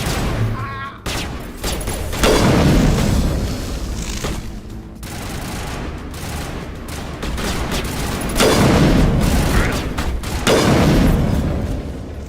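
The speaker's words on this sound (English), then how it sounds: "this thing's fire rate's even worse than the freaking first Lancer" Rapid bursts of video game gunfire from a Lancer-type rifle crackle in dense, loud volleys that pause and resume several times, with a voice occasionally underneath.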